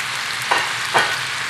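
Roughly sliced onions frying in a pan for a Brazilian feijoada, a steady close sizzle with two brief louder bursts of hissing as the pan is stirred, no voices.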